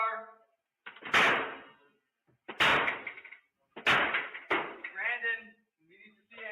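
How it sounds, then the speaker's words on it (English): Police forcing their way through a house door during a welfare check: three heavy, close impacts of about a second each, broken by pauses, with shouted voices between and after the blows. "Now they're going to break in his door"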